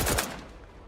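A sharp burst of gunfire in The Outer Worlds 2 video game, a loud close crack with a quick volley that decays within a second, no talking over it.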